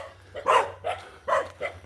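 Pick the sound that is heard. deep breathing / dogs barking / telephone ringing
dogs barking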